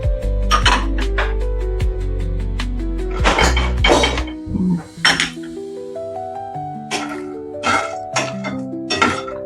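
Pumpkin seeds, raisins and walnuts roast together in a pan, giving sharp clinks and clattering knocks of metal at irregular moments over a tuneful musical backing.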